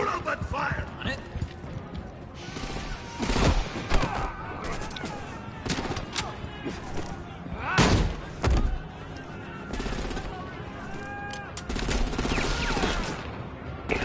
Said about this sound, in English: Уж такая здесь перестрелочка.